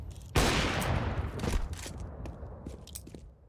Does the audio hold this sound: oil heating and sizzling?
no